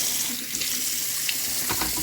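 A small appliance is rinsed under a running tap, a close, steady splashing hiss of water with a few sharper drips and clatters, and no talk.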